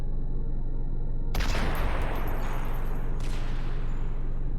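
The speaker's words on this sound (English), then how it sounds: "He is shooting me from there." Video game gunfire in Cataclysm DDA, a loud dense burst of automatic shots that starts abruptly about a second in and keeps up as a continuous rattling volley to the end, with no talk.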